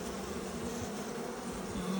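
Honey bees swarm in a dense, continuous buzz during a hive inspection, close and steady throughout with no voices.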